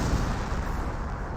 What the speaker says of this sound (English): looks like more Pioneers exploding